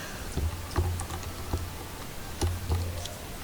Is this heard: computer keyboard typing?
yes